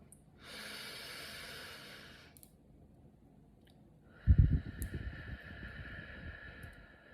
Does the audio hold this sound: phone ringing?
no